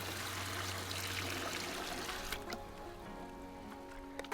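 Water poured steadily into a concrete mix, a continuous trickling splash that tapers off after a couple of seconds into quieter sloshing.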